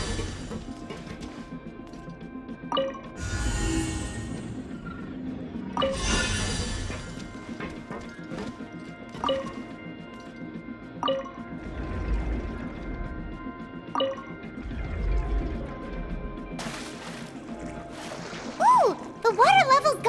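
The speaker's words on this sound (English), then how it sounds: "The water level's gone way up!" Water surging and splashing as the level rises in Genshin Impact, with repeated rushing bursts and clattering game effects over a steady background, a voice talking throughout.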